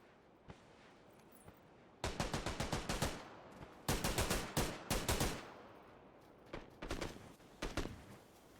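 Automatic weapon fire in PUBG breaks out in several sharp bursts of rapid shots, a few isolated cracks before and after, heard clearly with no voices.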